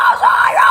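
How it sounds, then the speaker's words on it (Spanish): A short, gritty vocal fry scream held steadily for under a second, close and loud, its raspy tone wavering slightly in pitch. "I call it the Fry scream."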